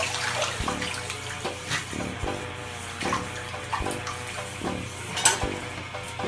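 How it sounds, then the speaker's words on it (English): A toilet flushes after a small piece is dropped in, water rushing and gurgling steadily through the bowl with a few sharp knocks and clunks along the way. "Now flush again."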